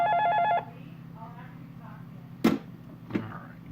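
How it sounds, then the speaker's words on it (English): A telephone rings with a repeating electronic trill in the opening half second, then stops, leaving a low steady hum broken by two sharp clicks near the end; no talking. "as the phone rings"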